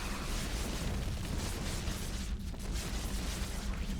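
Parasitic bomb explosions in a StarCraft 2 Zerg-versus-Zerg match roar as a dense, continuous wall of loud rumbling bursts that barely let up for the whole stretch.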